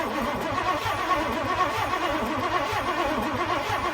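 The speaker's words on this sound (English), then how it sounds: "I'm gonna turn the engine over again" A 1964 Ford Thunderbird engine cranks over steadily without catching, a continuous rhythmic starter churn, loud and close with no talk.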